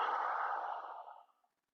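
A single long, breathy exhale during a yoga flow, close and soft, trailing off smoothly into silence.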